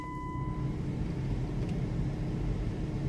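A car pulls out of a driveway, its engine a steady low rumble with road noise throughout and no voices.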